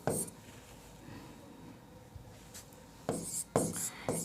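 Pen scratching across paper in brief bursts separated by quiet gaps, close and fairly soft, with the strokes growing busier toward the end.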